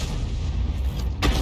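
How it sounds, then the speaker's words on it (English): A HEAT round bursting against a tank hull in a tank game, a dense rumbling blast that holds at a steady level and ends in a sharp, bright crack near the end, with no voices. "That was a heat round just going in there. You can see the explosion on the side of the hull."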